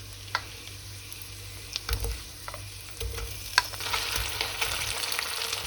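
Pumpkin gnocchi sizzle and crackle steadily in a pan with butter, with soft stirring and tossing scrapes and a few light clicks, close and without speech.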